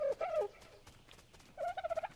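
Dodo birds in the game Ark Survival Evolved give two bursts of clucking, gobbling calls, with a quieter gap between them and a rapid run of pulsed notes at the end.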